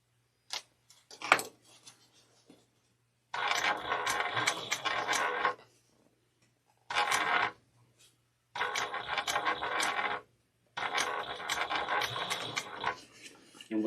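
A sewing machine runs in several bursts a few seconds long, a steady mechanical whirring and clatter of stitching with quiet pauses between runs and faint clicks before the first burst.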